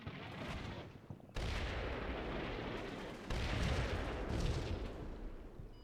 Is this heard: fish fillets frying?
no